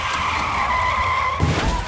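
A car tire skid sound effect, a loud sustained screech that cuts off abruptly near the end, heard alone.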